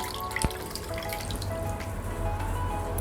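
A muslin cloth swished and wrung in a small bowl of warm water, producing close, quiet trickles and drips with one crisp splash near the start.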